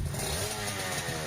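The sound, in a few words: Aprilia RS250 motorcycle engine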